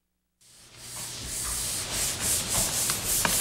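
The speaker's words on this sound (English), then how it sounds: "the last step in the drywall process is to sand down all the mud" Dried drywall mud being sanded in a basement, a steady rough rubbing hiss with rhythmic strokes swelling and fading, close and fairly loud, no talking.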